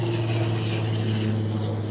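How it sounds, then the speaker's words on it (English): Police helicopter flying overhead in a backyard, a steady droning rotor and engine hum, moderately loud and continuous with no other sounds. "we'll let the police helicopter fly over"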